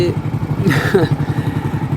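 Motorcycle ridden along an approach road near a Ganga bridge, its engine chugging steadily and close with a rhythmic low throb, plus a brief rattle partway through.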